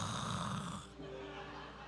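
A preacher's voice imitates a woman snoring, giving one loud, close, raspy, drawn-out inhaled snore that settles into a softer breathy tail.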